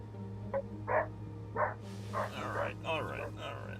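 A dog barks in the background in several short, muffled bursts, faint and distant beneath people talking nearby.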